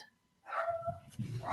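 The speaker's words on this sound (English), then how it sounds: "we have a doggy with us too." A dog barks a few times in short, soft bursts, somewhat distant in a room.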